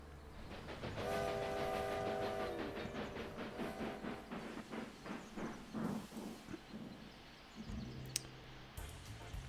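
Train in the video game Railway Empire 2: a steady rumbling run with a sustained horn blast early on, rhythmic clattering pulses through the middle, and a brief metallic click near the end, all fairly quiet and without talk.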